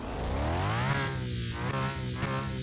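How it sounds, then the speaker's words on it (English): The Aston Martin Vantage's V12 revs hard in a car mechanic video game, its loud whining tone climbing in pitch, easing back and surging again in repeated close pulls. "That V12 whine at the top end sounded fantastic"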